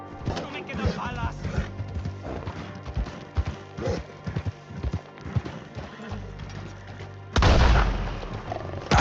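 Gunfire and horses in Red Dead Redemption 2: booming shots ring out amid clopping hooves, whinnies and snarling pumas, ending in a loud heavy blast as voices shout over the fray.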